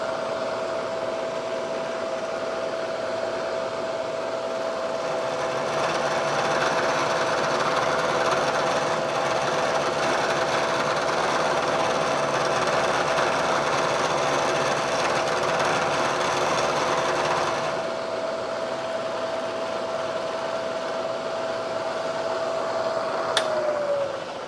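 An end mill cuts metal on a milling machine with a steady high whine and a grinding hum that stays level for most of the run. It drops in loudness near the end, then a pitch slide follows as the spindle winds down.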